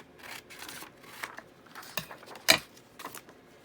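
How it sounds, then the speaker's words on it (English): Scissors snip through paper in a series of short crisp cuts with irregular spacing, one sharper snip standing out, close and alone in a quiet room. "I'm going to just cut this down like this."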